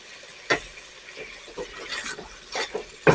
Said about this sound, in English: And now what we're going to do is we're going to stir this